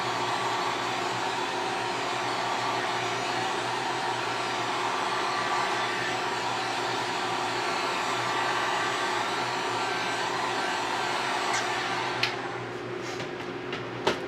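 A dryer blows a steady, loud whooshing stream across a painted panel for over ten seconds, then cuts out near the end, leaving a few small knocks and clicks.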